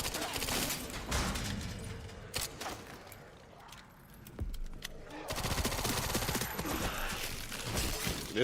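Rapid automatic gunfire rattles in bursts on the streets of Raccoon City in Resident Evil 3, loud and close, with a short lull in the middle before sustained firing resumes.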